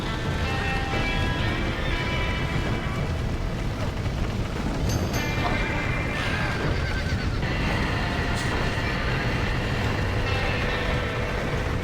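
A horse whinnies and hooves clatter in the video game Red Dead Redemption, set against a dense, steady roar of action noise that stays loud throughout, with a sharp neigh rising out of the mix midway.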